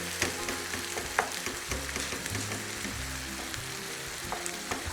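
Meat sizzles and fries in a pan, a constant crackling hiss with occasional clinks and scrapes of stirring, close and steady with no talking.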